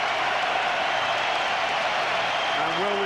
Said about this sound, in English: And a great cheer for Delalio.